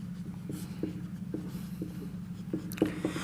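Chalk or marker writing on a board during a Hindi-language class 11 chemistry lesson on atomic radius, a series of short, regular scratchy strokes over a steady low hum in a quiet room, no voices.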